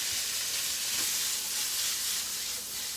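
Shrimp frying in a pan while being stirred with a spatula, giving a steady, close sizzle and hiss that runs unbroken throughout with no talking.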